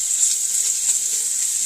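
Small cut-up pieces of bacon sizzle in a pan with a steady, bright hiss and crackle that holds at an even level throughout, with no voices.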